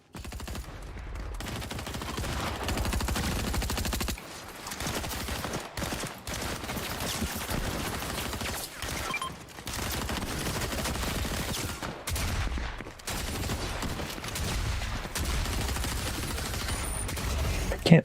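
Rapid bursts of gunfire in a video game, sustained and loud with brief pauses between volleys, sounding like fusillades and machine-gun fire throughout.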